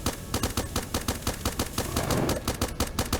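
Placed turrets in the game Starbound firing rapid, evenly spaced shots, a loud continuous burst of sharp bangs like machine-gun fire with no pauses.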